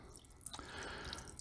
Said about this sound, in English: I'm going to put some fresh cold water in on top of that